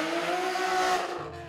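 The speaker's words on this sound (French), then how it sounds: "Les moteurs rugissent" Race car engines roar loudly at the start of a night slalom, a sustained high revving drone with tire squeal layered in, steady for over a second before easing off.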